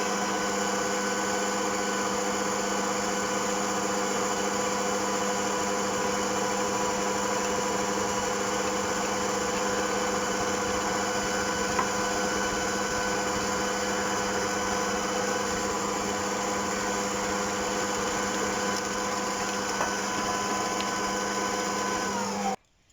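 An electric mixer running steadily to mix maamoul cookie dough, a constant loud motor whine with steady harmonic hum for over twenty seconds before abruptly cutting off, with no talk.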